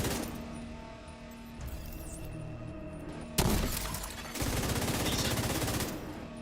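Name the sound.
gunfire from The Division 2 video game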